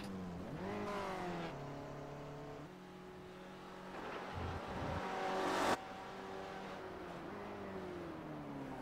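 Several Brands Hatch racing cars in iRacing drive past, their engines revving and shifting in layered rising and falling tones, loud and steady throughout with a sharp cutoff near the end.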